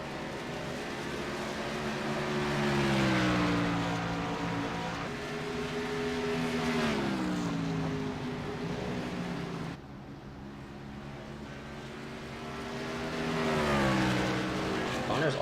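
Race cars in an iRacing video game race drone steadily nearby, engine pitch climbing and dropping in repeated sweeps as they downshift and accelerate, with a person talking over the engine noise.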